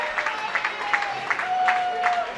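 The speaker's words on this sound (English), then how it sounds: "You can hear the cheering" Crowd at a bowling world championship men's team event cheers and claps in a steady wash of noise, with scattered rhythmic clapping and a voice talking over it.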